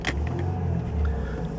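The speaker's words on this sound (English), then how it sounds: "I'm just going to turn the key and you'll see that it starts first time" A 1995 Mercedes-Benz E220 coupe automatic starts on the ignition key, a short starter whir catching into a steady, close engine idle rumble with no voices.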